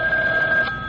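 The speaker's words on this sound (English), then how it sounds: "a ringing telephone makes me nervous" A telephone rings in an old radio drama, a steady electronic tone held close and loud for the full second with no break.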